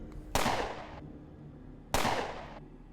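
Two sharp gunshots crack out in the Underrail video game, about a second and a half apart, each loud with a short fading tail, with no talking in between.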